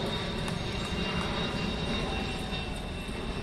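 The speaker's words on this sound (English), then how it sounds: "That was a big plane." A large airplane flies overhead during a 14U baseball game, a steady broad roar that holds evenly at moderate loudness throughout, with no talk.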